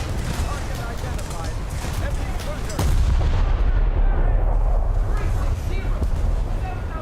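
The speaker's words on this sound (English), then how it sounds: "Taking heavy fire from the side." Heavy gunfire striking a warship in a naval battle video game, repeated loud booming impacts and explosions over a rumbling engine bed, with a voice talking throughout.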